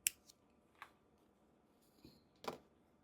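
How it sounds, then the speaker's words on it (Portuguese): Scissors snipping yarn at the end of a crocheted amigurumi doll's skirt, a few faint, sharp, close clicks spread apart in a quiet room. "Aqui no finalzinho, eu puxo a linha, e aí eu já posso cortar"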